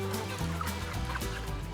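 Chickens cluck under a steady low hum of ventilation fans inside a large poultry house, 60 by 500 feet and holding 40,000 birds, with the clucking continuous and busy throughout.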